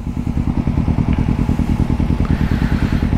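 A Kawasaki Z250 motorcycle engine throbs close and loud in an even, rapid pulse at steady speed, with no clear gear-change break in the drone.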